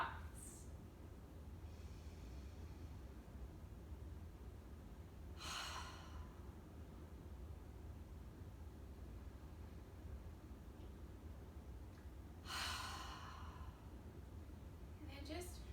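Slow, deep breaths during a yoga session, a few soft inhales and exhales spaced several seconds apart over a quiet, hissy background.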